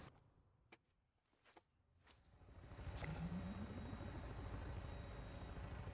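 Helicopter in the video game Fallout 76, its rotor and engine noise swelling in from quiet to a steady, loud drone that holds to the end, with a few sharp game sounds early on.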